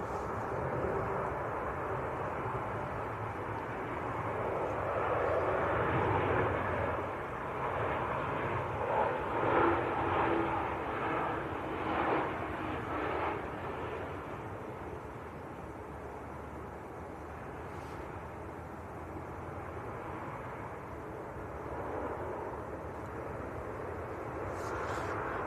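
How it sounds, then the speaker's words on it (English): A Jet2 airliner arriving from Malta rumbles steadily as it touches down at Manchester Airport, with a broad engine roar that swells toward the middle and then eases into a lower, sustained drone at a distance. "Jet 2 from Malta, about to touch down."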